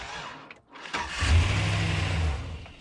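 A car engine cranks on a weak, failing battery, a low labored churning that drags on for about two seconds without catching, close and fairly loud.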